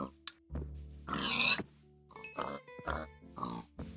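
Pigs in a Minecraft-style video game grunt and oink in several short bursts, close and fairly loud against a low background hum, with no talking over them.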